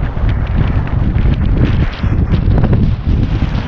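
Strong wind buffets the microphone outdoors in loud, rough, continuous gusts with low rumbling, swelling and easing briefly before rising again.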